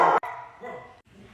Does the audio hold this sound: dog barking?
yes